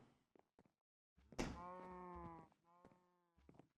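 Minecraft cow mooing in the game, a short low bleating call near the middle amid a few soft clicks and thuds, fairly close and without talk over it.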